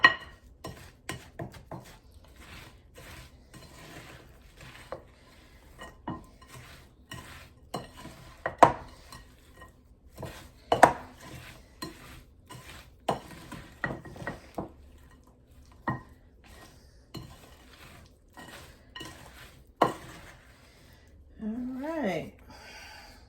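Almonds stirred with egg whites and cinnamon sugar in a bowl, giving sharp scraping and clinking hits at an irregular pace, with a brief sizzle-like rustle near the end.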